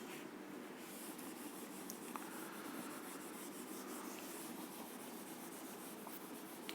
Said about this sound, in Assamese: হ'ল মোহাৰি দিওঁ